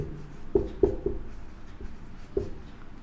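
Chalk or a pen writes on a board in a few quick, dry taps and short strokes, close but faint, with no other sound.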